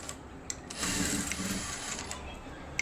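A sewing machine runs steadily while stitching the back panel of a blouse, a continuous mechanical whir with soft clicking ticks, moderately quiet and alone.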